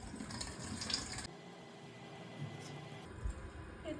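Water runs steadily from a tap, pouring into a container for drinking in a home; a constant broadband wash holds for about a second, then a quieter, duller stream continues, swelling briefly near the end.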